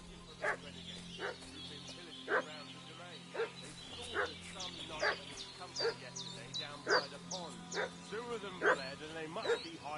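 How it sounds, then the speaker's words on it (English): In the video game Kingdom Come: Deliverance 2, a dog yips and whimpers in a steady repeating rhythm, one cry about every second, at moderate distance over a low background hum. "What's that dog making such a fuss about?"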